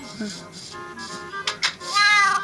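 A cat meows in the video game Minecraft, a few short meows over steady game sounds, with someone talking at the same time.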